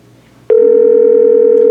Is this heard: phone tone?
yes